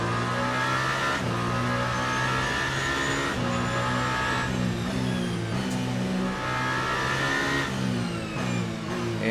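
A GTE race car in Le Mans Ultimate at Algarve International Circuit brakes into a turn. The engine drones loudly and steadily, with repeated downshift blips as it slows, heard up close and continuously with no voices.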